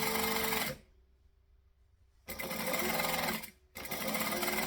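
A sewing machine stitches fabric pieces for a travel bag in loud, fast mechanical whirring bursts, stopping for about a second and a half, then running again, briefly pausing and resuming.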